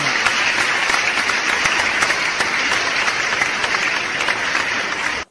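Dense, steady applause from a studio audience welcoming a guest onto a Sundanese talk show, loud and continuous for about five seconds before cutting off abruptly.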